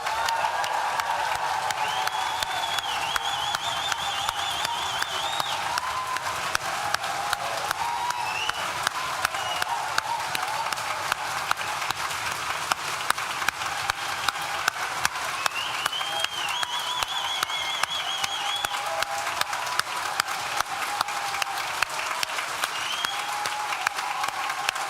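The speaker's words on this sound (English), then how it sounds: "I want you to clap. I want you to cheer." Graduation audience applauding and cheering for the class of 2022 at an NTU School of Social Sciences ceremony, a dense, steady wash of clapping sustained for the whole stretch with occasional whoops rising above it.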